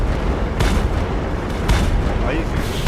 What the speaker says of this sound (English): Trying to shoot at 2 tanks at the same time